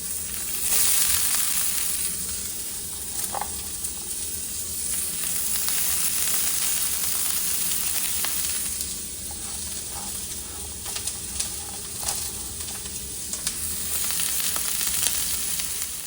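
Onion and garlic sizzle in olive oil in a pan for mushroom pasta, a steady close hiss and crackle with occasional faint stirring clicks and no talking.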